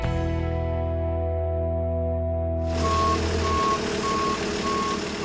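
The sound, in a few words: U-Haul truck reversing beeps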